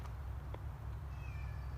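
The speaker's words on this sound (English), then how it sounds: "My cat is really sad." A sad pet cat gives a single short, fairly faint meow outdoors near a brush pile and fence row, over a steady low background rumble.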